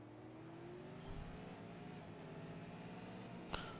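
V8 Supercars racing on a track in New Zealand, engines droning and rising in pitch as cars run down the back straight, fairly distant and steady, with a short sharp burst near the end.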